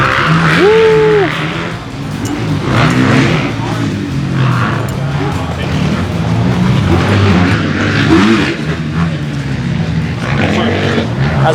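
Suzuki RM motocross dirt bikes rev and ride nearby, loud engine roar rising and falling continuously while people talk over it.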